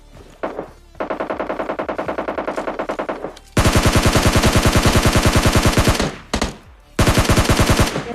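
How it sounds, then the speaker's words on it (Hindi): Rapid automatic gunfire from an apartment in a video game comes in several long rattling bursts with brief gaps between them, loud and sharply rhythmic. "और तभी अपार्टमेंट से फायरिंग की आवाज आती है।"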